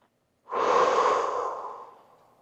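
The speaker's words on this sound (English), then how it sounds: "And now take a deep breath." One deep, audible breath taken close to the listener, rising abruptly after a brief silence, then a long airy exhale that slowly fades away over about two seconds.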